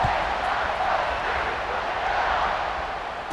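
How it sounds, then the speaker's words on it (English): A large stadium crowd in the video game College Football 26 roars steadily as a kickoff approaches, a dense, continuous wash of cheering at even loudness throughout. "They're set to kick it off, and this crowd now ready to get behind them."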